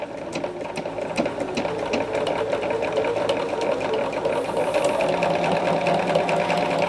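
Fast, steady stitching from a sewing machine fitted with a dual feed foot as it sews around a binding corner, a continuous close whirr with light clicks throughout.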